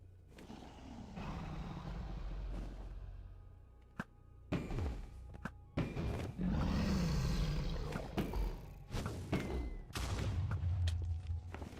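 A dragon fight in Minecraft on PS4 brings a run of thuds, sharp impacts and low roars scattered over several seconds, loud and uneven against a rumbling game background.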